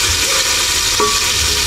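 Onion and tomato sauté in a pan with a loud, steady sizzling hiss, up close, with a faint stirring scrape partway through and no talking.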